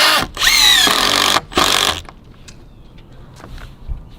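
A cordless power drill drives screws to cinch two plies of lumber tight during a backyard build: two loud whirring bursts with pitch rising then cutting off, followed by quiet handling knocks.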